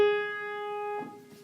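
A single sustained G sharp note on a keyboard rings steadily and clearly, then is released and fades within about a second, heard alone and moderately quiet.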